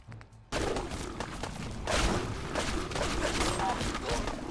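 Weapon fire in the video game Fallout 4, Far Harbor: after a quiet moment, a sudden dense burst of rapid gunshots erupts and continues as sustained loud fire with overlapping bursts and clattering mechanisms.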